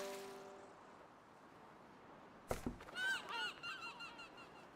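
Seabirds in the raft-survival video game Flotsam honk briefly after a quiet stretch, a sudden thump followed by a short burst of overlapping honks and calls, moderately loud against faint ambient wash.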